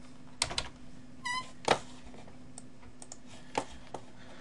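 Scattered keystrokes on a computer keyboard while code is typed, a few sharp clicks spaced irregularly against a quiet room hum, with one brief tonal blip partway through.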